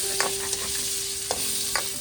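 Chicharon bagnet frying in its own rendered pork fat gives a steady close sizzle, with a few sharp stirring clicks and pops scattered across the short stretch. No one speaks.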